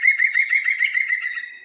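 A green woodpecker gives its laughing call, a rapid series of ringing, evenly spaced notes trailing off at the end, clear and fairly close with no other sound around it.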